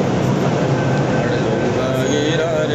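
A metro train arriving at a Delhi station, a loud continuous rumble of wheels and motors filling the space, with a faint whine rising near the end.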